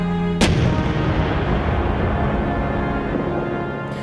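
A Shorty RPG explosion in the video game Plastic Battlegrounds, a single sharp, loud blast followed by a long, rumbling roar that slowly fades over several seconds.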